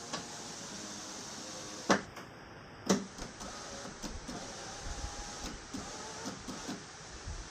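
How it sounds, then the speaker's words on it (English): A power window on a 1998-2002 Honda Accord hums along a low motor drone, with two sharp clunks where the glass stops and then a few lighter knocks and ticks, close and fairly quiet. "make sure the window rolls down all the way and back up easily."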